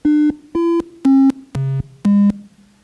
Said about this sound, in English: These 5 sounds are the 5 tones from Close Encounters of the Third Kind